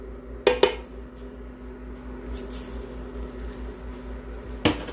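A utensil stirs Dijon mustard into a pan, with a few sharp metallic clinks against the pan at the start and once more near the end, and a soft steady scraping and low hum between.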